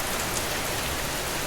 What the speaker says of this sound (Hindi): जो वाइफ है वो भी गॉड को थैंक करती है और कहती है कि आखिरकार रेन हो ही गई।